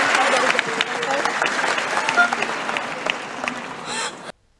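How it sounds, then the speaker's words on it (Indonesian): A crowd at an outdoor community event with domestic worker advocates and displaced residents gives a speaker a round of applause, loud and sustained for several seconds before it cuts off abruptly. "ayo kita kasih tepuk tangan dulu untuk Dinda"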